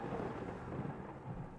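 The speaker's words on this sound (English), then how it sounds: "Thunder." Thunder in the Minecraft video game, a low, dull, rumbling roll that stays fairly faint and steady for a moment.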